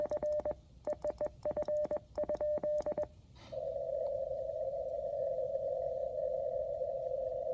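Morse CQ call sent from a QMX amateur radio transceiver: clipped rhythmic tone bursts of dits and dahs, then after a brief click a single long steady tone continues to the end, fairly loud and clean over a faint hiss.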